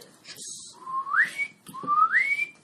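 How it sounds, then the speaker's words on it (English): A person whistles a signal twice, each call a rising, sliding pitch, heard close at moderate volume over quiet room sound, with no talking. "I whistle like that."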